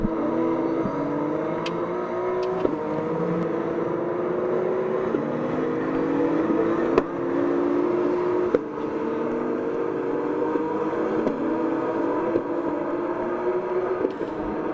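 Porsche Carrera Cup race cars at Le Mans, pushed to the limit, their engines revving hard and rising through gears in repeated climbs, with sharp shift cuts and a steady loud roar throughout, no talk.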